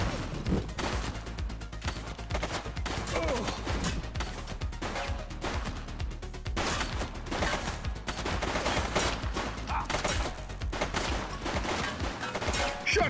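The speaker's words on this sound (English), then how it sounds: "Shots fired!" Rapid, dense gunfire in the police video game The Precinct, sustained bursts of shots and crackling fire running continuously without pause.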